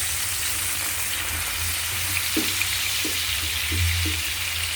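Sliced ampalaya (bitter gourd) sautéing in a frying pan for ginisang ampalaya with egg, giving a steady soft sizzle and hiss with a few light clicks and stirring knocks, fairly quiet and with no voices.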